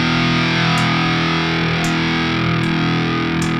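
A Schecter Banshee Mach 7 seven-string guitar played through a Master Effects Marauder pedal, a loud, sustained, heavily distorted chord ringing steadily with faint pick attacks every second or so.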